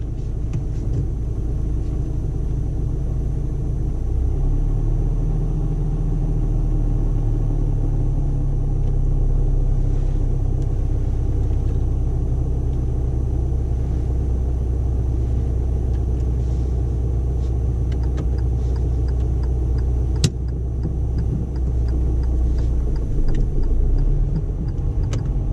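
A learner driver's car engine pulls away in gear during a driving lesson, a steady low rumble with a slight rise in revs partway through, close and continuous with no talking.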